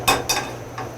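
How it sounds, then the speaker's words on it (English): Marinara sauce and baked ziti pasta stirred in a pot, three sharp clinks and scrapes of a utensil against the pot, close and fairly loud, with no talking. "So let's just start mixing that."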